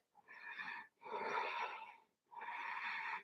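Three deep, slow yoga breaths heard close up, each a long airy inhale or exhale with short quiet pauses between them, audible on their own with no talking.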